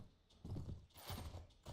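Horse hooves clip-clop in Mount & Blade: Warband, a rhythmic run of muffled hoofbeats in two loud bursts with faint background noise.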